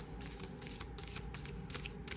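A deck of cards being shuffled, a quiet, close run of rapid riffling flutters and soft slaps with no talk.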